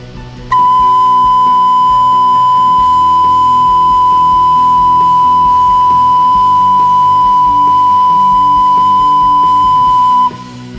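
A recorder (flauta dulce) sounds a single C note in a music lesson, one clear, steady, sustained tone held for about ten seconds, close and loud with no talk.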